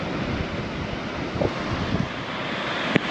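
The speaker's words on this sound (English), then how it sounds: "And the higher the waves are, the more it comes up, and it's super fun to watch." Ocean waves surge into a rock hole on the shore, a loud, continuous rush of surf with wind buffeting the microphone and a few sharper splashes.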